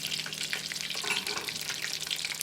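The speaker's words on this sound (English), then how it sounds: "they fry up really fast, too" Food sizzles and spits steadily in a hot frying pan as it browns, a dense, continuous crackle close by with no pauses.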